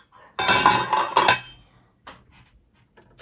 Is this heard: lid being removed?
yes